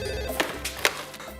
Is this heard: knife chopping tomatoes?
no